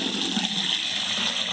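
Tap water pouring into a tank, a steady close rushing splash with a bright hiss, constant and alone throughout.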